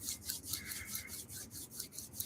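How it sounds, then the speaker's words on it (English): Palms rub briskly together up close in a quiet room, making a soft, rhythmic swishing friction with about eight quick strokes at a steady back-and-forth pace. "You can rub your hands together."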